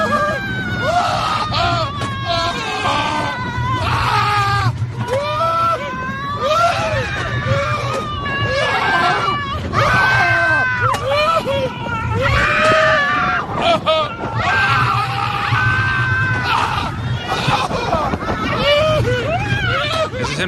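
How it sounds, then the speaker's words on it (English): A man screams and yells repeatedly on a roller coaster, with loud, continuous wavering cries over rumbling ride noise and crowd babble throughout. "This is him just screaming like a girl on a roller coaster."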